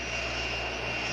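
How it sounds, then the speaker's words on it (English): A Boeing 757 jet airliner taxis into position on the runway, its engines giving a steady loud whine and roar with a bright high-pitched tone, constant and close throughout. "Boeing 757 is ready to taxi into position"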